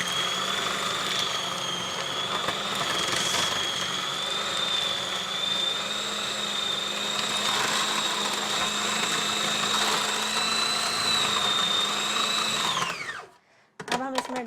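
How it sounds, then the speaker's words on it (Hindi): An electric grinder whines at a steady high pitch as it works a kebab mixture with egg into a fine paste, running loud and continuous for about thirteen seconds before spinning down and stopping. "हमें ग्राइंडर का काम इसलिए ज़्यादा है क्योंकि हमें उसे बारीक पेस्ट सा बनाना है"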